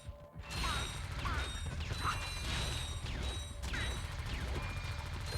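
Robot enemies being destroyed in the PS2 game Ratchet & Clank: dense, continuous mechanical clanking, ratcheting and crashing metal bursts layered over rapid gunfire, loud and busy throughout after a brief quiet start.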